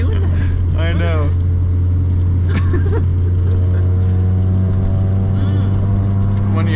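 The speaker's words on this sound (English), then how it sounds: "I think it's just missing. Like one of the cylinders is dead or something" Worn Honda Civic EK coupe engine running rough with a dead cylinder, a loud steady drone with uneven hum while driving, with people talking over it.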